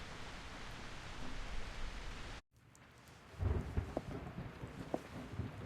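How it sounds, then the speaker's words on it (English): Thunder rolls through a rainy night in the video game Identity V: steady hissing rain, a brief cut to near silence, then low rumbling thunder with crackling peaks over continuing rain, fairly faint overall. "I was just woken by the thunder"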